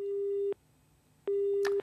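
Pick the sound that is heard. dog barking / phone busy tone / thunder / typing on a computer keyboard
phone busy tone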